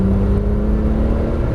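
A Porsche 997 Turbo S on a Las Vegas racetrack accelerating under throttle, a steady loud engine drone with a sustained whirring tone, close and without voices.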